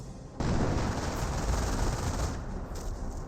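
Sustained machine gun and rifle fire in the Company of Heroes video game, a dense rattling barrage that starts abruptly and rolls on without pause, loud and close.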